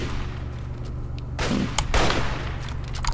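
Gunfire in the video game Fallout 3: a few heavy, loud shots with blasts in quick succession over a droning game background, followed by lighter clicks and impacts.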